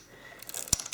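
A Zenza Bronica S2 medium-format camera fires its shutter with a single sharp mechanical clack near the end, preceded by faint light mechanical rustling, close and alone.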